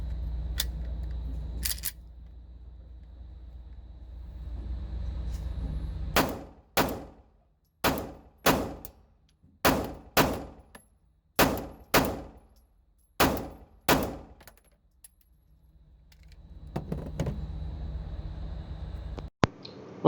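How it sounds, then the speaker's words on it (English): A Taurus G2C pistol with an upgraded trigger and recoil spring fires at a target in rapid pairs, sending about a dozen sharp, loud reports in evenly spaced double taps between stretches of quieter background rumble. "Now let's aim just above the 7 on the neck, and this time we'll do a little double tap."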